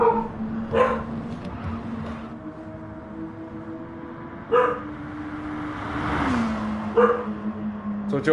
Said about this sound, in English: as the dog is barking in the other room